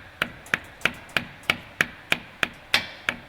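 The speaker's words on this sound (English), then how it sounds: "I usually prefer holding it in and then using the rubber mount to tap it on in" Rubber mallet tapping a seal head into a KMT NEOLine waterjet pump, nine evenly spaced, sharp knocks about a third of a second apart, close and fairly loud with quick decay.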